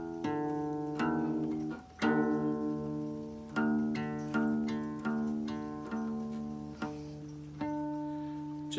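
A guitar's low E string is detuned to D for drop D tuning, with repeated plucked notes ringing and decaying, several clear attacks over a few seconds, close and quiet with no talk.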